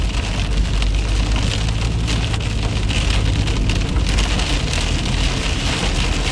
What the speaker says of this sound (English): Storms are coming.